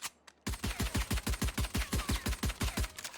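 Rapid pistol fire in Valorant, a quick burst of about sixteen evenly spaced sharp shots in steady rhythm, loud and close with no talk, preceded by a brief click or two.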